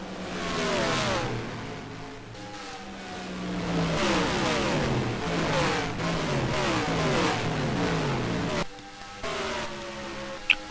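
A whole field of stock race cars roars past one after another down the back straightaway at Charlotte in a racing video game, overlapping engine whines sweeping down in pitch as each car passes, loud and continuous.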